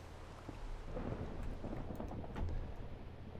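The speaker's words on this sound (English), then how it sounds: "It might be thundering up there" Rumbling thunder from a Minecraft storm rolls on steadily with rain noise throughout, low and continuous rather than sharp cracks, and no talking.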